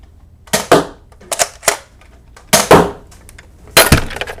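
An unmodified Nerf Elite Strongarm blaster fires foam darts in four sharp, loud, snappy shots, each a quick double crack, spaced over a few seconds.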